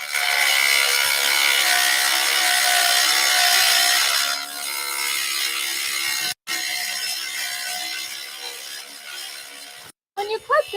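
A stone saw cutting through stone, giving a loud, steady grinding whine that drops and roughens midway, then breaks off twice in short gaps near the end.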